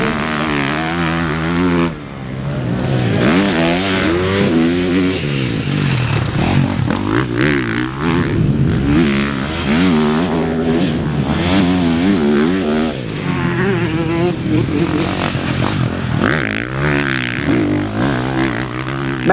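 A 2025 KTM 450SXF motocross bike rips around a track, its engine revving up and down in repeated surges, loud and close, with shifting pitch as the rider accelerates and backs off throughout.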